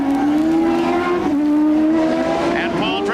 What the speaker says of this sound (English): The Marlboro car, the Penske powered by Chevrolet, takes the checkered flag.